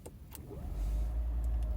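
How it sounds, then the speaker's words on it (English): The engine of a Honda City Sport Hybrid kicks in after switching to sports mode, heard from the quiet cabin as a deep, steady hum that swells up within a second and holds. "So when you change the sports mode, the engine kicks in."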